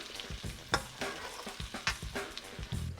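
Bacon frying in a pan with extra grease, crackling and spitting loudly up close, with frequent stirring scrapes and clatters over a continuous sizzle.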